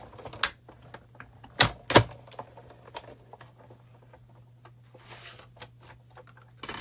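A manual die-cutting machine is cranked with a magnetic cutting plate passing through it during a stamping and cardmaking demo. Scattered clicks and a few sharp thumps ring out, two loud ones early, over a low steady hum.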